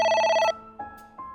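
A telephone rings in the video game A.I. The Somnium Files, one long bright electronic ring that cuts off sharply, then two shorter tones follow after brief gaps.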